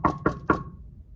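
Three sharp knocks on a door in quick, even succession, close and clear, with a short fading ring afterward.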